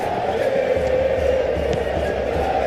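Steady stadium crowd noise from a PES 2021 football match between Atletico de Madrid and Arsenal, a continuous dense roar with no clear peaks.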